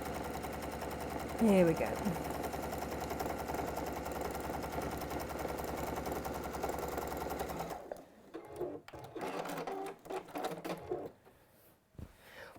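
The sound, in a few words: sewing machine stitching fabric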